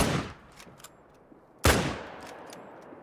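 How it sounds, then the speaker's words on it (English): Gunshots ring out in a hunting video game: one sharp report at the start and a louder crack midway, each decaying into a reverberant tail across open terrain, with faint distant pops between them. "I'm just gonna get that guy down with the wrong gun"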